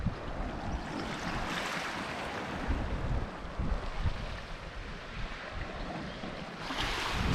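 Surf rolling in at an unusually high tide on a wild stretch of Devon coastline, a steady close wash of breaking water with swells rising near the start and again at the end, no voices.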